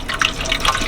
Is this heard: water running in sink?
yes